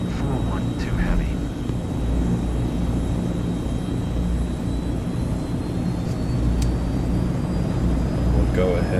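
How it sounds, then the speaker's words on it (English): Azurpoly C-160R transport aircraft on its takeoff roll in Flight Simulator 2024, a continuous loud engine drone with a thin high whine over it, steady and close throughout. "We'll go ahead and take off."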